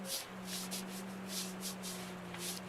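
Soft, steady friction of hands rubbing over the shoulders during a guided meditation, close and quiet, with a gentle rhythmic swishing and a faint steady hum beneath.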